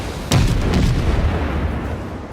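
Konigsberg cruiser guns firing in the naval battle game World of Warships, a single loud close boom that sets off a rumbling, sustained roll of gunfire and echo for the rest of the moment.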